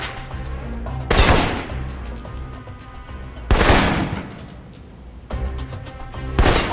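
Assault rifle fire in the shooter game Alpha Protocol: three loud, sharp bursts of gunfire spaced a couple of seconds apart, each with a booming echoing tail, over a low background ambience.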